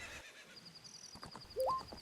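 A horse in Zelda: Ocarina of Time gives a short, quiet whinny near the end, over soft game ambience with a thin high tone running through it.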